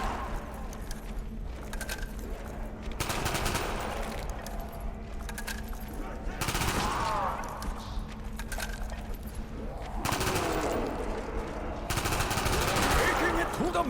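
Gunfire in the Moon map of a Zombies video game, loud rattling automatic bursts that come in several waves with short gaps, mixed with metallic clinks and game noise.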